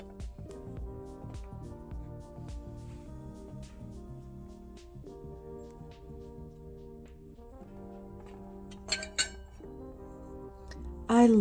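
Glass tumblers clink and chime lightly as they are handled, with several sharp ringing taps spread across the stretch against quiet background noise, then a brief louder rattle near the end.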